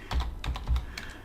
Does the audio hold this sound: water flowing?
no